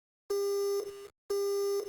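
Two long electronic tones of a phone busy signal in Silent Hill Play Novel, each about half a second, loud and clean, separated by silence.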